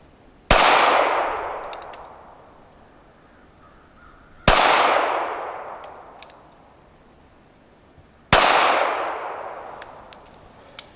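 Three separate gunshots from a Smith & Wesson Bodyguard .380 pistol fired outdoors, each a sharp, loud crack that rings out and decays over a couple of seconds, spaced about four seconds apart.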